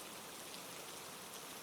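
Steady rain falls in a soft, even hiss with no breaks, faint and continuous throughout.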